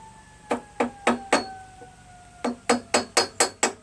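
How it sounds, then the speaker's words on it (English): A flathead screwdriver taps against a fused pin in a carburetor from a Tecumseh 5HP engine on an MTD Yardman single-stage snowblower. Four sharp metallic taps are followed by a pause, then five more in a quick, even rhythm, all close and ringing. "I'm just going to take a flathead screwdriver and put it along the pin here, right? And just slightly tap it."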